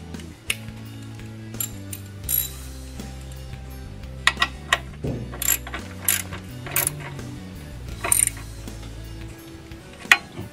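Ratchet clicking as a bolt is tightened on a vehicle chassis, with bursts of rapid metallic pawl clicks and clanks over a steady low mechanical hum.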